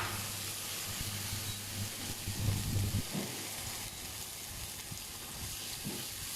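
Butter melts in a hot pan with toasted pine nuts and hisses with a steady, even sizzle the whole way through. The sound is fairly close, with light clatters from stirring and no talk.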